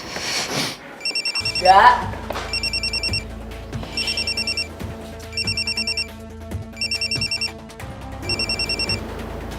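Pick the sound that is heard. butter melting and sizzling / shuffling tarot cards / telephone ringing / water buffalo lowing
telephone ringing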